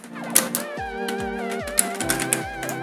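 Keys clack on a computer keyboard while commands are entered in a Kali Linux terminal, a few sharp isolated taps standing out over a steady tonal background of music.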